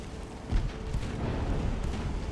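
Battleship big guns firing in the naval game Ultimate Admiral: Dreadnoughts, deep rumbling booms rolling low and heavy in a dull, continuous thunder, no voices present.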